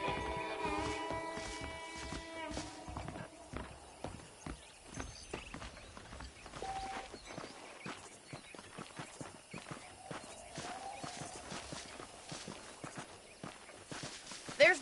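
Horse hooves clip-clop at a steady walking rhythm in the video game Red Dead Redemption. The hoofbeats are clear and close, with a brief musical sting at the start and faint game ambience underneath.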